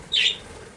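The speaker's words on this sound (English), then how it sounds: "2 birds just did a flyby" Brief bird chirp or squawk as two birds fly past outdoors near a rowing erg session, a single short call that rises then fades, fairly close.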